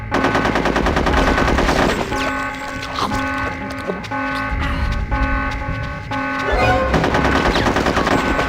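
Rapid submachine gun bursts in the video game Conker's Bad Fur Day, loud and continuous automatic fire with short pauses between volleys over a steady musical backdrop.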